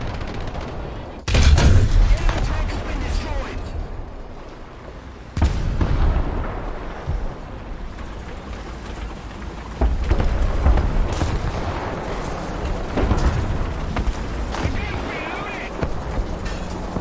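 Aircraft guns rattle in bursts during War Thunder air combat, loud broadband gunfire chattering at the start and returning in heavy stretches, with someone talking over the action.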